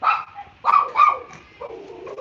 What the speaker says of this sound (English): These dogs are out of control.